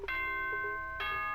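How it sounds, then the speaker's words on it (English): Danganronpa announcement chime: two bright bell-like ding-dong tones, the first struck near the start and the second about a second later, each ringing out with sustained harmonics, clear and alone. "Ding dong bing bong"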